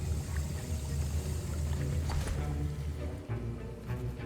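A potion is stirred in a cauldron in a Harry Potter game, a soft continuous liquid swishing and sloshing with faint gurgles, steady and close, no talking.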